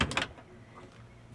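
A wooden drawer with a magnetic tray inside a DIY van conversion, a quick soft slide and knock at the start, then quiet room tone.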